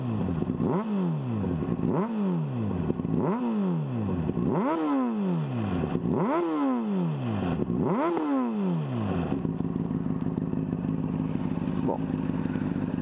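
A Honda CBR 600 RR fitted with a Leovince SBK exhaust and its baffle revs hard about six times in a steady rhythm, each blip rising and falling sharply, then settles into a loud, even idle close by.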